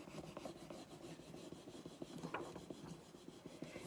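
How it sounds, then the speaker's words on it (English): Firm, steady rubbing of a paint transfer onto a wooden carrier box, a close, continuous scratchy scrubbing with quick repeated strokes and no talking. "I'm just rubbing really firmly all over this section"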